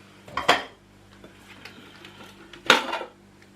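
Lid of a RoadPro slow cooker handled twice, each time a sharp clattering clink of lid against crock, with quieter handling noises in between.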